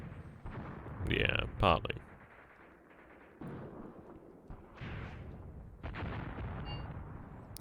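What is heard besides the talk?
artillery or mortar fire in Gravi Team Tactics, video game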